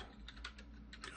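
Fingers tap a computer keyboard while entering text in Photoshop, a short run of quiet, uneven clicks at close range with no voices.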